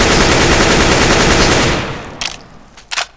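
A rapid automatic weapon spray in CS:GO hammers out a loud continuous burst of gunfire, then cuts off, followed by a few short separate shots.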